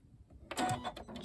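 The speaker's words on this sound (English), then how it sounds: "Electric presser foot lift, so you don't have to reach behind to raise and lower the foot." A Janome 9450 sewing machine's electric presser foot gives a single short motorized whir and mechanical clunk, close and fairly quiet.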